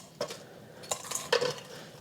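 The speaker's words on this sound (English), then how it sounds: "Oh, you can hear how crispy they are." Crispy fried chicken wings tumble into a bowl, a few light crackling clatters and scrapes in quick succession, close and fairly quiet in a kitchen.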